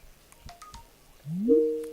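A telephone emits a short series of faint beeps followed by a rising electronic ringtone that swells and holds loudly, quiet background otherwise.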